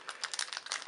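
Scissors snip and crinkle through the foil of a Pokémon trading card booster pack, a quick run of close, faint crackly ticks lasting under a second.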